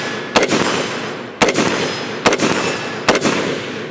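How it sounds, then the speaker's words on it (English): Four sharp pistol shots crack out loud and close, spaced roughly a second apart with a ringing tail after each report. "Let's do a couple rapid fire shots here."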